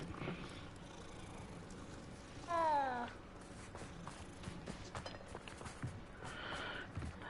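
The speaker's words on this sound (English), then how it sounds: "there's a cat" A cat in the video game Hogwarts Legacy gives a single clear, rising-and-falling meow, moderately loud against faint game ambience and soft background sounds.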